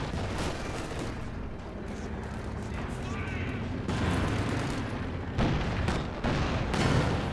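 Steady rumble of battle in Company of Heroes 2 during a 1v1 match, with scattered gunshots and shell bursts in the distance under a caster's continuous commentary.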